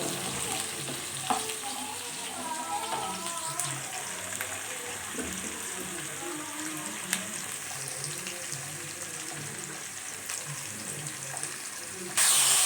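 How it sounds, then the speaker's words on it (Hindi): Onions sautéing and frying in oil until golden brown, a steady close sizzle with occasional stirring scrapes, continuous and fairly loud with no talking, for a homestyle desi chicken curry. "प्याज को हम गोल्डन गोल्डन ब्राउन कर लेंगे। अनियन को अच्छी तरह से सौते करेंगे।"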